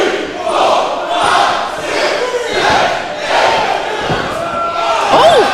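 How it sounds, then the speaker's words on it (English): A packed wrestling crowd at a Reality of Wrestling show roars and cheers loudly and continuously, the noise swelling in waves, with a sharp whistle rising near the end. "every single time they come out, this crowd just comes unglued"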